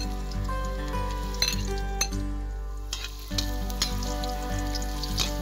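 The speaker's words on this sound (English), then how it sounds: "Now we will heat the oil and then stir fry the luya or ginger until a little bit toasted." Ginger stir-frying in hot oil for ginataang manok sizzles steadily throughout, with occasional clinks and scrapes of a utensil against the pan up close.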